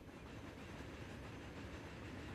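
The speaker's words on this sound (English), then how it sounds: "the absolutely iconic train that is the Class A3 Flying Scotsman" Class A3 Flying Scotsman steam train running in the video game Transport Fever 2, a steady dense rumble of rolling wheels and rail noise with no distinct beats, continuous and moderately quiet.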